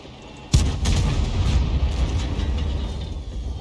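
A KV-2 tank's big gun fires once in a video game, a sharp loud blast followed by rumbling mechanical clanking and grinding that carries on steadily afterward.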